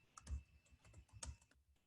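Computer keyboard keys tapped while an email address is entered, a quiet cluster of clicks with two firmer bursts of strokes close by, no voices.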